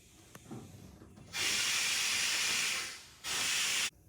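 Fuel rushes through the line of a Richard Petty race car's new fuel system as the engine is primed, heard as two steady, loud hissing bursts split by a short pause and standing alone with no talk.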